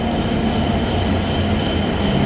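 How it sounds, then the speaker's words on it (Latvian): A Shinkansen bullet train pulls into a station with a loud, steady rush of rolling noise and a thin high-pitched wheel squeal held throughout. "kur piebrauc mūsu šī ceļojuma pēdējais Shinkansens"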